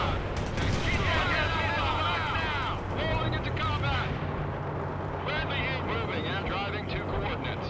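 Gunfire and artillery in the World in Conflict real-time strategy battle, with heavy shells and sustained shooting rumbling through a city street fight, loud and continuous, with game voices talking over parts of it.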